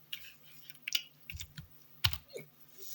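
Fingers type on a computer keyboard in short, irregular bursts of soft clicks and a few heavier key taps, close and fairly quiet, with no talk.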